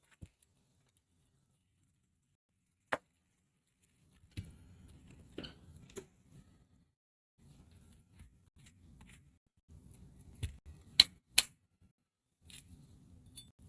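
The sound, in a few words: knife cutting up an onion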